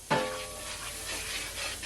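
Curry powder sizzles in hot oil in a pot for a Jamaican curry chicken, a steady broadband frying hiss that flares loudly at the start as the powder hits, then holds even and close.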